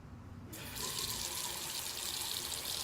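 Steady rush of cool water running from a tap, switching on abruptly and then flowing continuously and fairly loud, with no voices.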